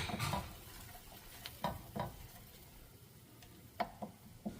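Chipotle peppers in adobo sauce cook in a pan with a faint, low sizzle, while a few soft scrapes and taps of stirring come and go. The sound is quiet and close, with no talking.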